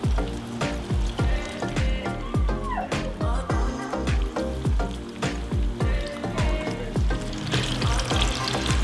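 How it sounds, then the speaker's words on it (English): Lingcod fillets frying in a pan, a steady close sizzle and crackle running throughout, with bursts of spattering and faint voices in the background. "you can't fry this too fast"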